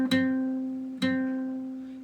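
A guitar note on the second string is plucked twice, about a second apart, with the fingertip pressed directly on top of the fret. Each note rings close and steady as it slowly fades.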